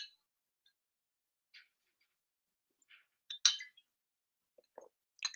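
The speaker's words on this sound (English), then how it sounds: "a sip of water" A few light, sparse clinks of a drinking glass while a sip of water is taken, soft isolated taps with silence between them.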